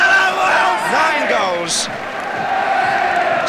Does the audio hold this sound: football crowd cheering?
yes